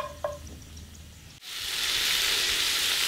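Garlic frying in oil: after a quiet moment with a faint clink, a sudden loud sizzle bursts up and settles into a steady, close crackling hiss that continues to the end.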